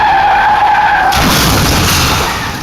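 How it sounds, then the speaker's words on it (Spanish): A Ford sedan skids hard before colliding with a Chrysler, a loud, sustained broadband tire screech and roar that swells midway and holds close and intense without any talk. "su Ford Sedan se estrella con un Chrysler"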